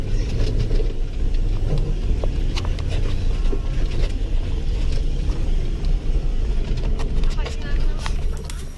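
An off-road vehicle grinds over rough terrain on the way to Dolok Sibual-Buali nature reserve, with a low engine rumble, steady rattles and knocks, and a voice talking over the noise.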